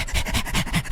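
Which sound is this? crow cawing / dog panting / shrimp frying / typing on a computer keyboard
dog panting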